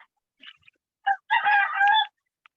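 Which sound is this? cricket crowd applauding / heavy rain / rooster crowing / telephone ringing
rooster crowing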